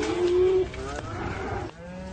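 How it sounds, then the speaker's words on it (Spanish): Cloned cows in a barn mooing, one long tonal low followed by overlapping moos from other animals of the herd, moderately loud and close, with a deeper bellow near the end. "En este establo hay un rebaño de vacas que la evolución nunca habría podido crear"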